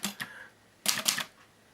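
A manual typewriter: two quick key strikes, then a louder burst of clattering as the carriage is returned, close and clear with no voices.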